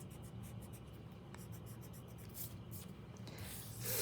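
A pencil drawing construction lines on paper, followed by erasing, gives a steady close scratch that swells into louder rubbing near the end, with no talking.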